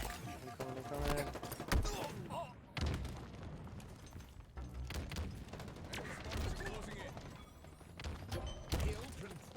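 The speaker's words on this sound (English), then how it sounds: "there's a lot of grenades popping off" Grenade explosions and gunfire in a Halo match, with repeated booms and thuds mixed with rapid shots in a dense, continuous barrage, loud and close, with speech over it.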